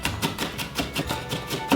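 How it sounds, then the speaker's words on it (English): Knife chopping half a medium onion: quick, regular taps on a cutting board, about eight crisp strikes in under two seconds, close and clear with no talking. "we gotta chop about half of a medium onion"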